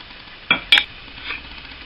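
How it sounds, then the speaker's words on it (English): Two sharp clinks and a light scraping rattle sound as sugar goes into a pan of red grapefruit marmalade with ginger, brief and close against a quiet background. "And now it's time to add the sugar."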